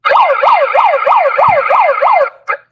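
A handheld electronic siren gadget wails in rapid repeating up-down sweeps, about seven cycles in quick succession, loud and close, then cuts off with a short final chirp.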